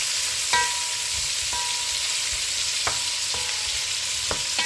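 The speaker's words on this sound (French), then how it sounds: "Je vais remuer un peu mes cotis." Smoked ribs (cotis) frying in a pan, a steady hiss of sizzling fat with a few sharp scrapes and clinks as they are stirred every second or so.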